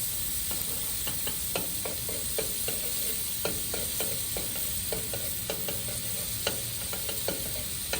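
Country Crock spread melts in a pan on a grill, making a soft, continuous sizzle broken by light clicks and scraping taps, moderately quiet and without voices.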